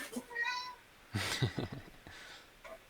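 A cat gives a short meow near the start, then a person speaks briefly and a second faint meow follows, all quiet and close indoors.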